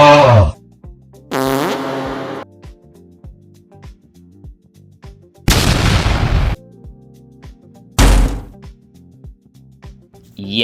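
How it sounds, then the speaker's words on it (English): Grenade blasts in the video game Running With Rifles: three loud broadband bursts spaced a few seconds apart, with a fainter earlier burst and steady low game rumble between. "I cannot stop blowing myself up with grenades"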